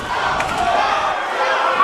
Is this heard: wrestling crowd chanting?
yes